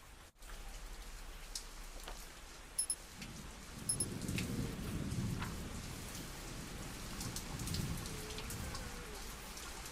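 Storm in the zombie survival game Zafehouse Diaries: steady heavy rain pattering on surfaces with a deep rolling rumble of thunder swelling in the middle, a couple of brief sharp tones early, no voices.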